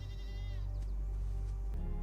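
Goats bleat in several drawn-out, wavering calls over a steady low background hum, fairly close and clear, with no talking.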